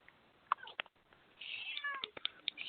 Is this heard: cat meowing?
yes